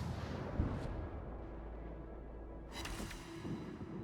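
Naval guns fire armor-piercing shells at a Hipper-class cruiser during a warship battle game, heard as deep distant booms under a constant low rumble, with a sharper blast near the end.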